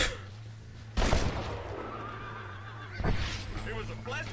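Two sharp gunshots ring out in Red Dead Redemption, roughly two seconds apart, each a loud burst that quickly fades over a low steady in-game hum.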